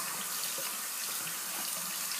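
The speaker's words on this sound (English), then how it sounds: "I'm going to go ahead and just wet my face." Steady tap water running into a sink while a man wets his face before shaving, a continuous close hiss with no talk.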